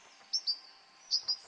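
Birds chirping in the video game Bye Sweet Carole, two pairs of short, high, bright tweets close together, clear over a quiet ambient background.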